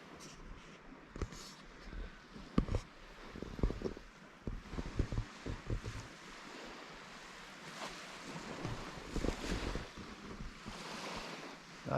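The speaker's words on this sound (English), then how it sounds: "Santa Anas are picking up" Gusty Santa Ana winds blow across a bay on the Baja coast, buffeting and roaring in uneven surges against the microphone along with a wash of surf, with no voices heard.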